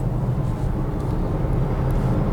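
Steady, dense road and wind rumble of a Volvo XC40 P8 electric car speeding up from 60 toward 120 km/h uphill, heard from inside the cabin without interruption.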